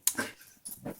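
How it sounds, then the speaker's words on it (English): A pet dog rolling around on the floor after a treat, giving a couple of brief close snorts and grunting whimpers, with a short pause between the two bursts. "my dog must have had a good treat"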